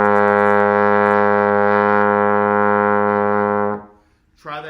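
A trombone sounds a single sustained A flat in third position, a steady, rich brassy tone held for nearly four seconds before cutting off, followed by a brief voice at the end.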